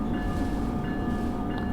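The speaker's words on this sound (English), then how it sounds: "I guess I should blow the horn once or ring the bell or something" A locomotive rumbles along the Morristown Line between Dover and Summit in Train Sim World, a steady low engine drone with faint tonal lines that may be a distant horn, close and continuous with no talking.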